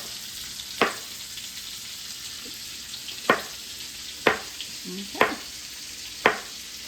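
Sausage browns in a pan with cabbage, a steady frying hiss running throughout, broken by five sharp clicks of a utensil stirring against the pan, with a single brief spoken word.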